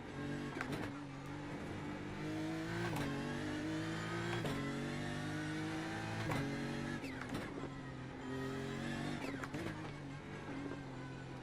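BMW GT3 race car in the iRacing sim at Bathurst, its engine droning steadily loud throughout, with repeated sharp rev rises and gear shifts as it climbs the hill on cold tires.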